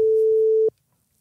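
Telephone tone heard while calling a guest, one steady beep that cuts off abruptly after about two-thirds of a second, leaving near silence.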